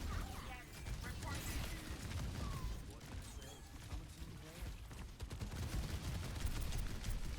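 Missiles firing in the Overwatch video game: dense, rapid bursts of blasts and booms that run steadily throughout, mixed with game effects while people talk over them.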